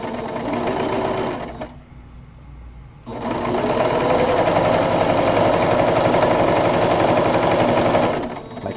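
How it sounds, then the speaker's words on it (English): A sewing machine stitches stiff, starched batik fabric with a fast, steady mechanical chatter, pausing briefly to a lower hum before running loud and continuous again until stopping. "they are sewing up definitely a lot easier and feeding through the machine a lot easier."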